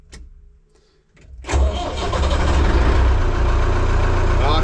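An old car engine cranks briefly, catches and fires up, then settles into a loud, steady running rumble close by.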